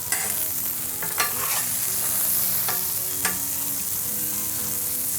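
Burgers fry in a pan with a dense, steady sizzle throughout, close and fairly loud, broken by a few brief scraping clicks.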